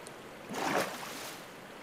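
Flowing water in a Minecraft water channel that carries mobs up high, a soft rushing swell that rises briefly in the middle and then settles to a faint, steady wash.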